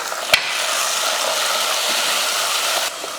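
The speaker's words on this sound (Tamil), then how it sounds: "இந்த டைமில் தக்காளி சேர்த்துருவோம்." Tomatoes dropped into onions frying in a pan for Tamil kara kulambu, giving a steady, close sizzle that runs throughout with a brief sharp clatter near the start and no talking.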